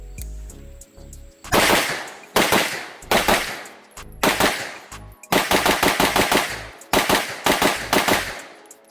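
Rapid strings of sharp, loud gunshots from an MPA DS9 Open pistol on an IPSC practice range, fired in fast bursts of several shots with brief pauses between strings.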